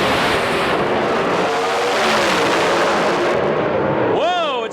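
Pontiac Pro Stock drag race cars roar at full throttle down the strip in a Las Vegas round-one pairing, a loud sustained engine howl with a rising tonal whine near the end, broadcast commentary talk over it.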